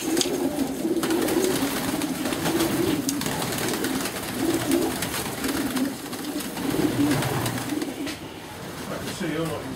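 Racing pigeons coo steadily in a breeding loft, a continuous layered burbling from many birds close by, under a busy, reverberant background with occasional rustling.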